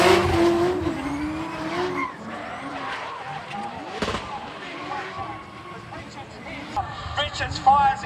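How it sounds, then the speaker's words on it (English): A drift car at a drifting festival spins out with a long tire skid and squeal over engine noise, a sharp crack partway through, and a commentator talking throughout. "Richards fires it in and puts the car into a spin."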